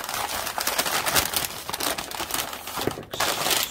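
Paper folded open while making a junk journal cover, with continuous close crinkling and rustling that keeps going without pause for a few seconds, no talking.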